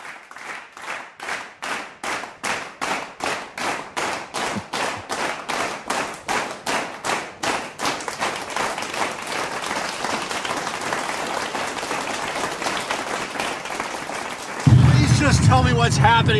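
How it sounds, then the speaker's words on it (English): An audience gives a warm round of applause for guests on a show, starting as slow, evenly spaced claps that speed up into dense continuous clapping before the sound cuts to something else. "let's give them a warm round of applause here."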